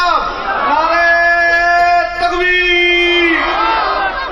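A large religious gathering roars a loud, unified chanted response to a Nara-e-Takbir call at a Sirat-un-Nabi event in Tibba, the massed voices swelling together, holding for a few seconds, then fading.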